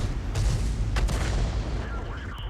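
A tank gun fires a shell in a tank battle video game, a heavy boom breaking through a constant, loud rumbling backdrop. A second sharp crack follows shortly after.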